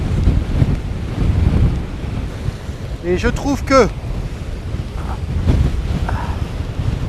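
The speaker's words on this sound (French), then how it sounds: "le spectacle des vagues qui se cassent est assez exceptionnel" Waves breaking along the Scottish coast roar in a steady, heavy wash of surf, buffeted by strong wind against the microphone, while someone speaks French briefly over the noise.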